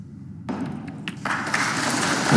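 A snooker cue strikes the ball during the Judd Trump vs Si Jiahui match at the 2024 Wuhan Open: a crisp single click, then a second light knock, followed by a soft wash of audience noise.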